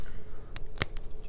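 A sea salt cracker bitten once up close, giving a single sharp crisp snap with a faint smaller crackle just before it, over a low steady room hum.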